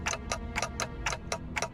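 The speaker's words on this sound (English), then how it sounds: "all I hear is a clock ticking" Clock ticking in the video game Limbus Company, an even series of about eight crisp ticks over a low droning game background, with no speech.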